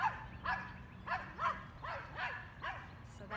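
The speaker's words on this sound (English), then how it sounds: "We've got two dogs passing by, and Sedona's got to let them know it's her yard." A dog named Sedona barks at two dogs passing her yard, a series of about seven sharp, yelping barks in a steady rhythm, fairly close, over a low background hum.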